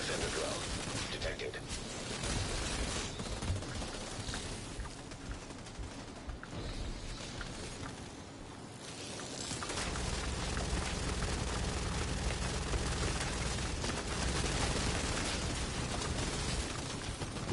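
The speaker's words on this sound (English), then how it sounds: "Bro, they're shooting each other right now." Players trade gunfire in The Division 2, with dense, rapid shots and bursts crackling throughout at moderate distance and growing heavier toward the end, while a voice talks over parts of it.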